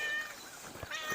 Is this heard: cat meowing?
yes